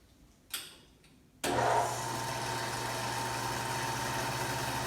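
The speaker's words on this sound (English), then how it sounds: "What I'm going to do is turn the pump on" Antique Gilbarco 80 gas pump motor switching on with a click, then running as a steady, close, humming drone with a low tonal whine that holds unchanged.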